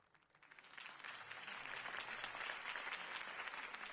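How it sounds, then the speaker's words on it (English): A large crowd in a video game applauds steadily, the clapping swelling quickly and holding at a dense, even roar. "could have heard that applause"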